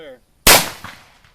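Single loud gunshot from a Cimarron Pietta Frontier SAA .45 Colt revolver, a sharp close crack that decays quickly into a short ringing tail, with a faint voice just before it.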